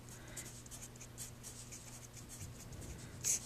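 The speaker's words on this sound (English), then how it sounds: "so let's write it all out here" Equations for a trig derivative are being written out by hand, faint scratching strokes in a quiet room, steady and continuous with a small tap near the end.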